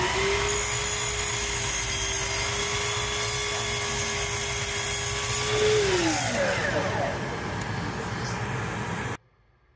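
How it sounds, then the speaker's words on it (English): A woodworking dust-collection vacuum drawing through a 4-inch pickup on a router gives a loud steady roar and whistle that then winds down in pitch, finally cutting to silence at the end. "So let me go ahead and turn the vac on"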